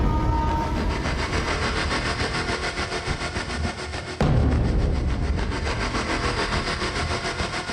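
A train rolls through a busy railway station, a loud steady rumble of wheels and engine close by with a sudden heavier surge midway, no voices over it.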